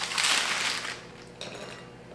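Oven-roasted chickpeas, baked at 400 degrees, are tipped onto a plate, making a short, close, dry rattle that comes in two bursts: a louder one at the start and a smaller one partway through.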